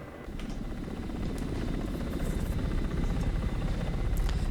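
Ka-50 helicopter flying in the DCS combat simulator, a steady heavy rotor thump with a low droning engine, continuous and loud, rising slightly, with no voices.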